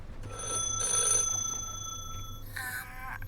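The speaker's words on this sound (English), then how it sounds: "Our phone's ringing again." A telephone rings in The Last Caretaker video game, two bright trilling electronic rings at moderate volume over a low ambient hum.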